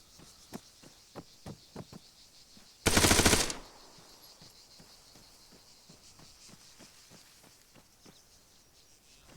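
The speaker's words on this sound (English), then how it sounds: "Dimitiero, fire at the soldier." Gunfire aimed at a soldier in Arma 3: a steady string of sharp, evenly spaced single shots, broken by one loud, sustained burst of automatic fire, then the single shots resume.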